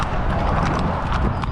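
Horses carry riding women along a rural Texas village road, with dense, continuous hoof clatter and a rough, noisy texture, close and fairly loud with no clear talking.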